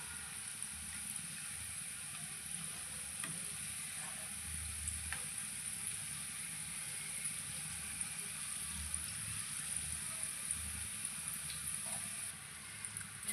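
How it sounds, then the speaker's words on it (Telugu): Jackfruit pieces fry steadily in hot oil in a pan, browning over a continuous soft sizzle with faint crackles and no talk. "రివర్స్ వేసుకొని మంచిగా బ్రౌన్ కలర్లో వచ్చే వరకు కాల్చుకోవాలి"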